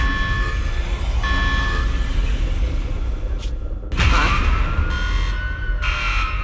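A security alarm blares in Zenless Zone Zero, loud, wailing alarm tones repeating over a heavy electronic score with a sudden burst of noise midway, and no talking.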